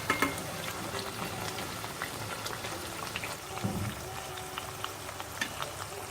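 Papdi made from fenugreek (methi) and wheat flour frying in oil in a pan over medium gas, a steady bubbling sizzle with faint crackles throughout, alone without talk.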